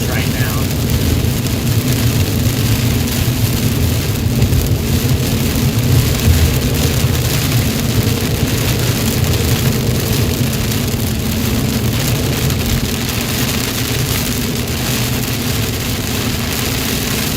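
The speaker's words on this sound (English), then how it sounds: "Still some really heavy rain." Heavy storm rain pours steadily in North Texas, a dense, loud, continuous roar of drops drumming on surfaces with a low rumble underneath, no clear talk.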